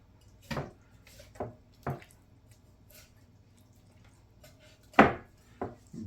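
A kitchen knife working through raw chicken leg joints and cutting into the backbone, giving a few separate close, dull cracking chops and crunches spaced a second or more apart, with a louder snap near the end.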